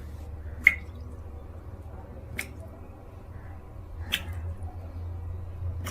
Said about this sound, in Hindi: Is it a tap leaking?